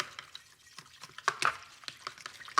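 Spoon stirring a mustard mixture in a bowl for air fryer fried pickles, soft irregular scraping and clinking strokes, close and fairly quiet.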